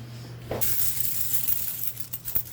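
Savings coins are poured and shifted into a new container, giving a rush of jingling metal followed by scattered clinks and small rattles, close and fairly loud.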